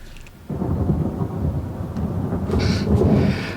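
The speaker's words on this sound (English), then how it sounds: "Lightning and thunder and the sky clear, not a cloud." Thunder in a storm, a deep rolling rumble that rises suddenly after a quiet start and keeps growling loudly, with a sharper crack and hiss of rain near the end.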